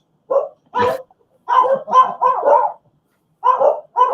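Two dogs bark indoors in a house, a loud close run of sharp barks in irregular bursts, some quick doubles, with short silent gaps between.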